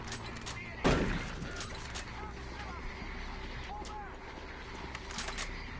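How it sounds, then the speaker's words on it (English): A single loud, booming shotgun blast in the video game Doom 3, followed by a quieter stretch of game ambience and low talk. "A couple shots with the shotgun,"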